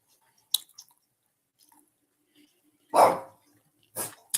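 Dogs in a backyard letting out a few short, sharp barks, one louder burst near the middle and another toward the end, scattered between quiet gaps.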